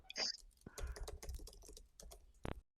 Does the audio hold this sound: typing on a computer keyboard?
yes